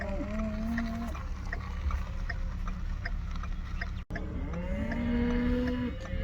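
Cattle lowing repeatedly during an old-school cattle drive on a farm, drawn-out moos rising and falling over a steady outdoor rumble, two clear calls close by.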